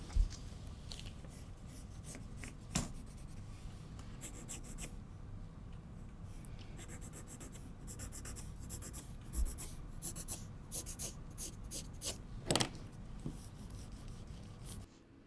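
Pencil scratching across paper while a jacket pattern with a shawl collar is drafted, a steady rasp of strokes and light taps, quiet and close, with no talking.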